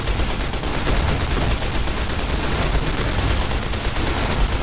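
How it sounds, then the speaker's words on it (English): A 10mm submachine gun in Fallout New Vegas fires a continuous, loud rattling stream of rapid shots that holds a steady level throughout. "All y'all get to enjoy the wonderful musical stylings of the 10mm submachine gun."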